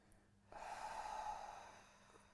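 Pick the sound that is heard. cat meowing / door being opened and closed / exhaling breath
exhaling breath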